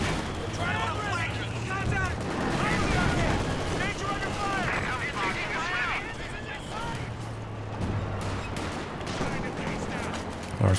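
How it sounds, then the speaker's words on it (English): A .50 cal machine gun in a World War II strategy game with Panzer IV and Sherman tanks fires repeated rattling bursts amid explosions and battle noise, heard under an ongoing commentator's voice. "50 cal getting some good damage in"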